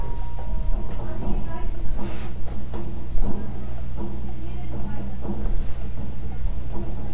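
Clock ticking in a steady rhythm under a music bed, with a voice talking over it throughout.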